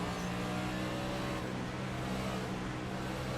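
A damaged race car drives around the Homestead oval track during a racing event, its engine giving a steady, loud drone throughout without any clear pass-by or change in pitch.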